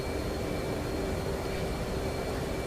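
Steady jet engine roar of an F/A-18D Hornet climbing away after takeoff in the DCS flight simulator, a constant broadband rumble with a sustained whine, loud and unbroken throughout with no talk.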